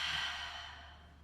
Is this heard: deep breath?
yes